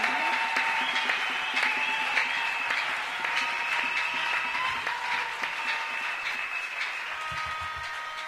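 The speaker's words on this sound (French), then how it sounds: "Vous devez acclamer pour la gloire de Jésus-Christ." Church congregation at a Friday miracle service applauding and cheering for Jesus Christ, steady dense clapping and crowd noise throughout with a sustained tonal background, no speech.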